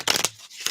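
Oracle cards being shuffled once by hand, a brief crisp riffle of card edges in two quick bursts separated by a short pause.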